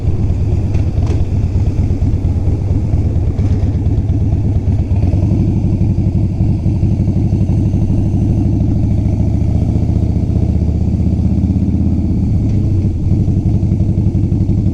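A motorcycle rides down Main Street in Daytona, its engine rumbling steadily and close throughout, with wind buffeting the microphone and the pitch shifting as the rider changes speed.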